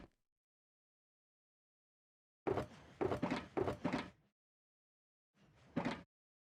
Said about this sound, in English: Flint and steel to light the fire.